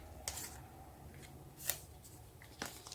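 Tarot cards drawn from a deck in a quiet room, heard as a few faint, crisp flicks and slides of card against card, spaced out over a soft background hush.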